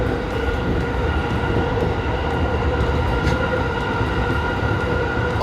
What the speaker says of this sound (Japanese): この電車は青梅線直通青梅特快青梅行きです。